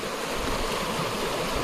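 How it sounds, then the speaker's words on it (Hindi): A river flows steadily past a forest hiking area, a continuous broadband rush of water that stays even and moderately quiet throughout, with no voices. "इधर से एक नदी जा रही है।"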